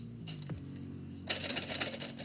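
A typewriter types a poem: a few separate key strikes and a carriage shift at first, then a quick, close run of sharp, even clacks keeping a steady typing rhythm, with no talk.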